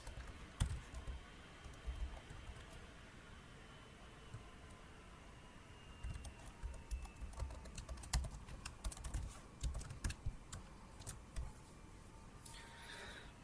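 Someone types on a computer keyboard while writing C# code, the keys clicking in irregular bursts with short pauses. The typing is close and soft, growing busier toward the end.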